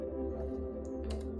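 Keyboard typing while entering numbers into a web form, heard as a few soft, quick key clicks under a steady low electrical hum, with no talking.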